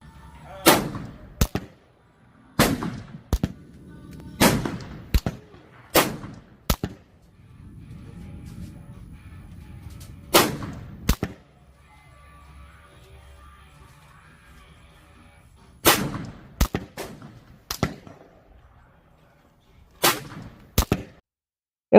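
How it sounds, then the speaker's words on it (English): A Ruger American Gen 2 rifle fires about a dozen loud, sharp shots, spaced irregularly and sometimes in quick pairs, at an outdoor range. Faint low talk and rustling come between the blasts. "On the other side of the same coin, we fired the Ruger American Gen 2."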